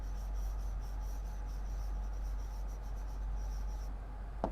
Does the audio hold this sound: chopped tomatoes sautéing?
no